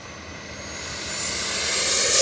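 An E-flite F-16 Thunderbirds 70mm electric ducted fan RC jet screams at full throttle, a loud, rising whine that builds steadily in pitch and volume.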